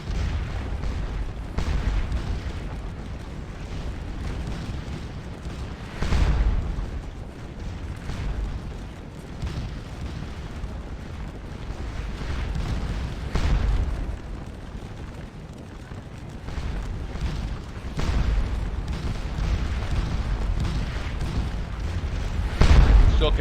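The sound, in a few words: musket and artillery fire in video game Scourge of War: Waterloo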